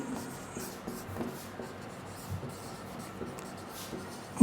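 Chalk or marker strokes from a teacher writing on a board in a classroom, a soft scratchy rubbing that comes in short repeated bursts at low level, with no voices.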